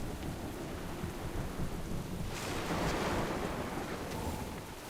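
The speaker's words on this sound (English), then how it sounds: "This storm will soon overwhelm us!" A thunderstorm at sea in World of Warcraft rolls in as a broad, steady roar of rain and surf, with a deep thunder rumble swelling loudly midway and fading back into the downpour.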